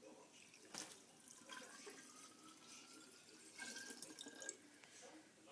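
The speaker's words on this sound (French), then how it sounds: "je vais rajouter de l'eau" Water being poured into a ginger mixture in a home kitchen, a faint, uneven splashing trickle with a couple of louder gushes, quiet and close.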